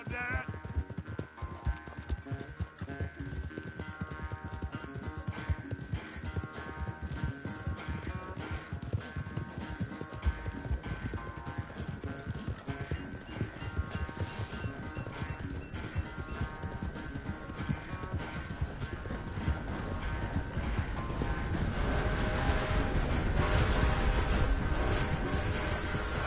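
Horse hooves clip-clopping steadily while riding in a video game, a continuous rhythmic beat of hoofbeats close by with music underneath, growing louder toward the end.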